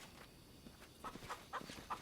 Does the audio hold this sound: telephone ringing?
no